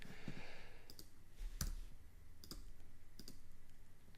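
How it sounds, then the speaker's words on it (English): Several sharp mouse clicks on a desktop computer, spaced irregularly over a quiet room background, one slightly louder click near the middle. "Yeah, right click."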